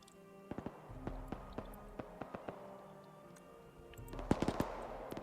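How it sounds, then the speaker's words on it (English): Rocket strike explosions in the military game Arma 3, heard as a series of sharp, scattered bangs at irregular intervals, some faint and some nearer, building to a louder cluster of blasts near the end. "Did a rocket strike."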